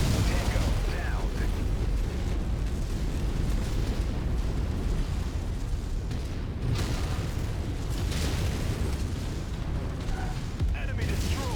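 Heavy, continuous booms and rumbling blasts as enemy mechs are destroyed in the MechWarrior 5 video game, loud and dense throughout with layered explosion and weapon-fire noise, a voice faintly present in the mix.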